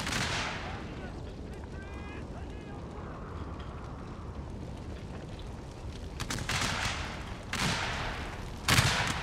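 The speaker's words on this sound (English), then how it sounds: "Now these are Gatling gun towers." Rapid gunfire from Gatling gun towers in a Total War: Shogun 2 battle, with sharp bursts growing louder toward the end over a constant rumbling battlefield din and a voice talking.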